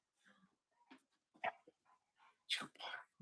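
A dog whimpers and makes soft, high yips in a home, with a few short, faint bursts scattered close by and some quiet whispered voices mixed in.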